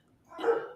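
Dogs barking indoors, a short burst rising to a loud peak and then staying fairly steady, close to the listener with no talking.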